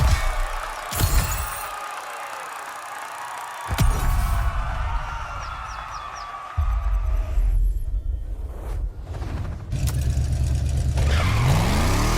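A Bugatti in The Crew Motorfest, engine revving and accelerating through shifting pitches, one rising sweep at the end, loud and close with brief whirs and no talk.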